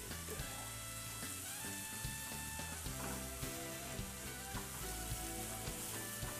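Cajun seafood searing in a hot pan for an alfredo, crackling with a steady, loud, continuous sizzle throughout, with faint clinks and stirring noises over the frying.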